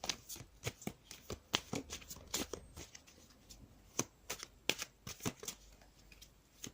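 Tarot cards being shuffled and drawn for a weekly love reading, a steady run of crisp, close riffling snaps and flicks with short pauses between bursts, no voices.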